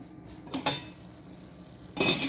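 A metal pot lid and pans clink and clatter on a stovetop while liver cooks at a boil, with two or three sharp, close metallic knocks separated by quiet pauses.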